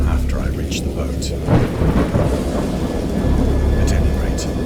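Heavy thunder rolling through a storm in the video game Dagon, a deep sustained rumble with rain hissing beneath and a swell of louder crashes, with a voice talking over it.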